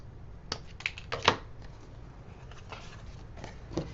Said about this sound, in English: I'm cutting through 2 sheets of cardstock at a time, plus the one on top